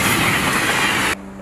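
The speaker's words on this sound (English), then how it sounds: "but the train goes by." A train going by close to an open window, a loud continuous rumble and rattle that cuts off sharply when the window shuts, leaving a muffled low hum.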